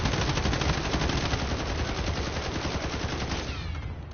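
Rapid sustained automatic gunfire from the Call of Duty Warzone video game, a dense continuous burst of shots that stays loud throughout and thins slightly near the end.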